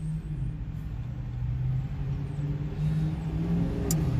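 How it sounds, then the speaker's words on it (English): Cars passing on a city street in Austin, a steady loud engine and tyre roar rising and swelling as vehicles drive by nearby, with no voices. "What is it with these cars, man?"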